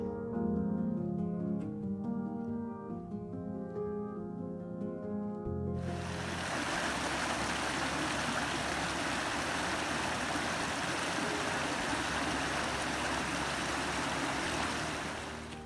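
The Kosi river near its source in the Almora hills, a loud, continuous rush of flowing water that dominates after a musical opening fades out, steady and close with no voices.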